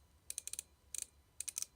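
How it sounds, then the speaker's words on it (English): Bait runner lever on a fishing reel clicking, three quick bursts of small sharp mechanical clicks, close and crisp against near silence. "It's got the bait runner feature. So just click this down"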